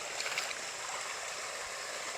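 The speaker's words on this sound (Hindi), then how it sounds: "देखें दोस्तों, कितना तेज पानी ज़मीन से निकल रहा है" Water gushing fast out of the ground at a hidden forest spring, a steady rushing, gurgling wash that stays fairly soft and unbroken, with no voices over it.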